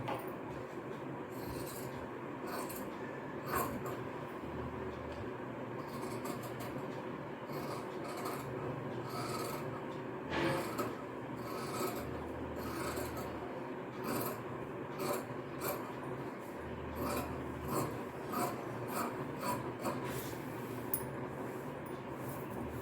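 Scissors cut through fabric for the back piece of a blouse, making a continuous rasping, crunching sound with repeated snips and rustles, close and fairly quiet, with no talking.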